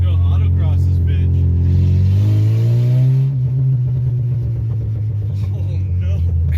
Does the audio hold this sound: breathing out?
no